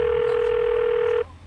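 Calling a motorcycle dealer, a phone line gives a steady, loud, single-pitched ring tone that cuts off after about a second, with faint background hiss.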